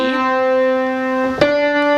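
A single sustained piano note C rings clearly and steadily, with a soft key tap partway through; no talking.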